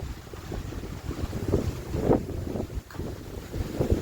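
Gusty wind rumbles and buffets the microphone in a steady, close roar on a clear day hiking Gunung Butik, a 1,250 m mountain with rice fields near its entrance gate.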